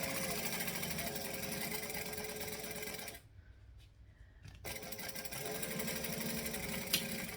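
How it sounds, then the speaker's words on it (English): A sewing machine top stitches a handbag at a 4 stitch length, a steady whirring run for about three seconds, a short pause with light clicks, then another continuous stretch of stitching. "I'm going to go up to a 4 stitch length and then I'm going to top stitch at 1/8 of an inch from that"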